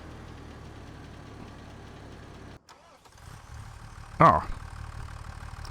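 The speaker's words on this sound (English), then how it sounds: "I appear to have left this tractor switched on" A tractor engine idles in Farming Simulator 25, a steady mid-pitched drone that cuts out briefly and then returns, with a short spoken exclamation near the end.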